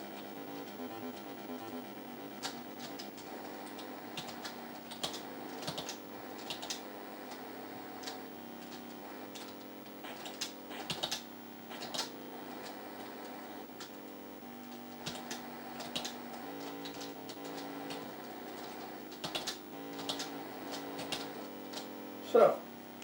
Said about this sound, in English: So I'm hitting the space bar.